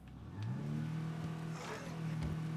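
A car engine in a video game revs up and holds a steady, loud drone, rising in pitch early on and then sustaining close by with no talk over it.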